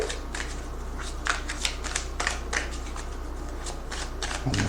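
Tarot cards from the minor arcana are shuffled and drawn from a deck in a series of crisp riffling, slapping bursts, close and fairly loud, with quiet pauses between them.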